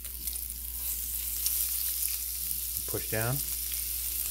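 Eggs frying over easy in bacon fat and butter in a seasoned cast iron pan, a steady, close crackling sizzle throughout with a brief spoken phrase partway through.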